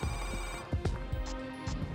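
Telephone ringing on a call back, a steady electronic ring tone that repeats through the whole clip with a dull rumble underneath.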